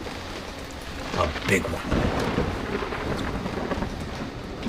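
Rain falls steadily through a thunderstorm, with a thunder rumble building in the middle and a brief spoken remark.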